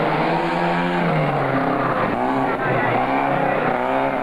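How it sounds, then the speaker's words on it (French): A yellow Opel Ascona rally car slides sideways on a rally stage, its engine roaring loud and close with rising and falling revs throughout, no talking over it. "Une Opel Ascona jaune en travers"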